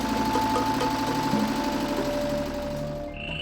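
A village generator engine running on oil, a continuous loud mechanical drone with steady knocking vibration that eases slightly toward the end.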